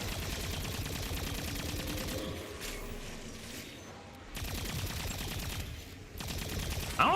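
Gunfire in Black Ops 6 Zombies, with weapons firing in dense, rapid bursts that run almost continuously, loud and close and dropping briefly before resuming, no voices.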